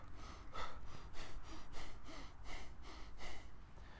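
Breathing exercise of repeated forceful exhales through the nose, about eight rhythmic puffs of air in quick, steady succession, close and soft.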